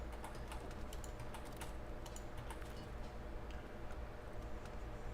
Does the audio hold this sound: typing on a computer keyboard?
yes